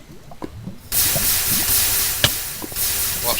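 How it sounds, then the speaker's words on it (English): Steam in the Blood N Bones video game starts abruptly as a loud, continuous broadband hiss that persists to the end, after a quieter opening with a few soft knocks; no speech. "Watch the steam."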